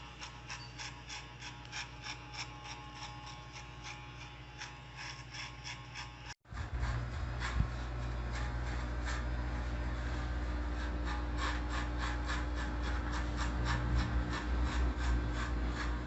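Electric hair clipper fitted with a 1.5 guard cutting hair during a mid fade haircut, a steady close buzzing with rasping strokes that grows louder and denser after a brief break partway through.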